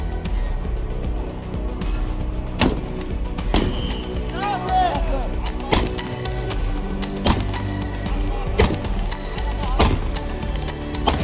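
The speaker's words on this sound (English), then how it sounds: "Live fire training." Live-fire weapons training, with sharp gunshots cracking at irregular intervals, some near and loud, over a steady background and intermittent voices.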